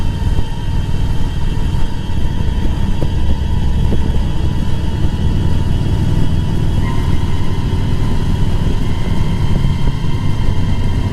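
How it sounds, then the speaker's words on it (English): A motorcycle on an evening Halloween ride produces a steady, close engine rumble with wind noise, continuous and unbroken with no talking. "it feels great to be back out on the bike"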